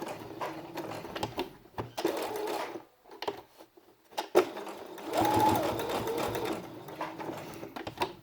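A sewing machine runs a second seam through felt in stop-and-start bursts of rapid stitching, with brief pauses and some handling noise between runs, close and moderately quiet.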